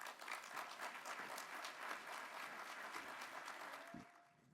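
Sustained applause from a conference plenary audience welcoming speakers to the stage, dense clapping at full strength that thins and fades out at the end.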